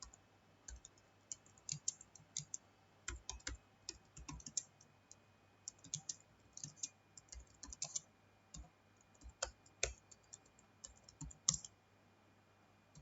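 Computer keyboard typing of HTML code into Notepad: steady bursts of close, crisp key clicks in an irregular rhythm, with short pauses between runs and a faint low hum beneath.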